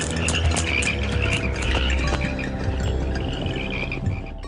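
Dense chorus of invasive toads croaking continuously, many overlapping calls forming a loud, steady rattling din with no pauses or voices.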